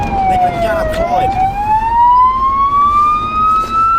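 A police car siren wails loud and close during a high-speed chase, its tone dipping and then rising in a long sweep over road and engine noise.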